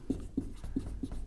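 Chalk or marker writing chemistry notes on a classroom board, heard up close as four rhythmic, scratchy strokes about a third of a second apart, with no speech.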